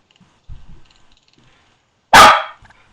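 A single loud, close dog bark bursts out after a few faint low sounds in an otherwise quiet room.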